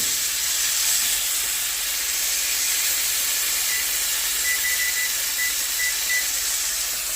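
Chicken pieces frying in a pan while being flipped, a steady loud sizzle and hiss that continues unbroken with no talking.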